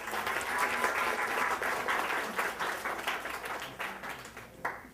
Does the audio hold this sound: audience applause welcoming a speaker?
yes